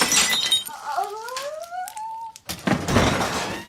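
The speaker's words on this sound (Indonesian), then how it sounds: "dia melempar seonggok gelas" A drinking glass is thrown and shatters during a family argument in the Japanese film 100 Yen Love. Sliding squeaky tones lead into a loud, sharp burst of breaking glass near the end.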